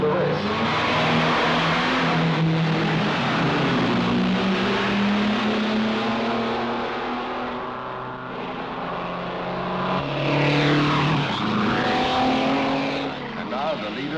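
Racing cars in the 1950s roaring around a circuit during a long race, engines droning and shifting pitch as they speed past, with a commentator talking over the continuous noise.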